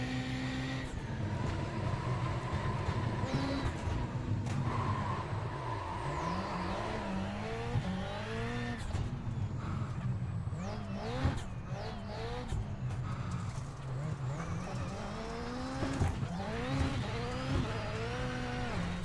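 Rally car in the iRacing RallyX sim game revving hard through gears, engine pitch climbing and dropping with repeated upshifts and sideways power slides, loud and continuous throughout.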